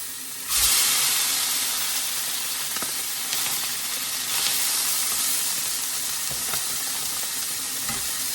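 Duck breasts laid skin-side down in a very hot pan, bursting into a loud, steady sizzle and crackle that carries on with small pops, no voices.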